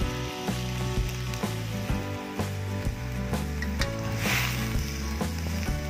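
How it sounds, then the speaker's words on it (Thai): Liquid bubbles and sizzles steadily in a pan as sauce is stirred into boiling water for Korat-style stir-fried noodles, a utensil scraping and knocking in a regular stirring rhythm, close and continuous. "เมื่อเราใส่ซอสลงไปในน้ำเดือดแล้วนะคะเราก็จะคนให้เข้ากันค่ะ"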